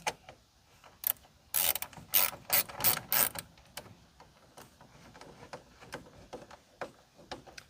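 A ratchet tightens the power side-view mirror bolts on a 2004 Chevrolet Astro van, giving a string of sharp clicks, with a fast, dense burst of ratcheting in the middle and scattered single clicks before and after, close and with no talking.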